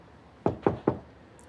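Three quick, evenly spaced knocks on a door, close and sharp, with no voices.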